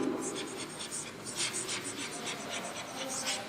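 Pen or chalk writing out a chemical name, a quick run of scratchy strokes close by at a brisk, uneven rhythm, with a voice speaking faintly underneath.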